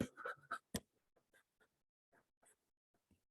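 Chalk or marker strokes on a classroom board during a chemistry lesson, a burst of quick scratchy marks followed by sparse, faint taps and short strokes, close and quiet with no voice over them.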